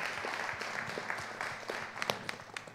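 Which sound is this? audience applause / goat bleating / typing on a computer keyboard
audience applause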